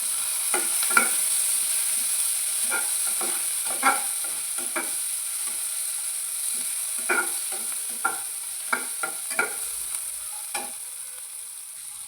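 Onions stirred and fried in a pan give a steady bright sizzle, with a utensil scraping and clicking against the pan in irregular strokes, close and alone.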